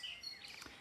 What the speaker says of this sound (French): Donc là je sais que c'est un merle. Ou une mésange bleue en fait